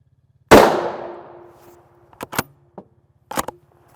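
A single gunshot strikes steel body armor as shot five: one loud, sharp crack with a long ringing decay, followed by a few lighter metallic clinks and taps.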